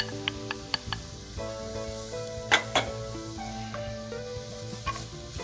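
Diced turkey kielbasa sausage sizzles steadily in a hot pan, with a few sharp pops and spatters over the constant frying hiss.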